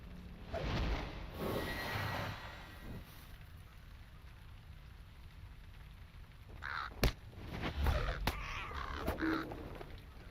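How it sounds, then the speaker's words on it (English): Crows cawing in the fantasy game Lord of the Rings Online, several harsh calls scattered across the scene over a windy ambient backdrop with low rumble, the caws growing denser and sharper toward the end. "there's lots of crows"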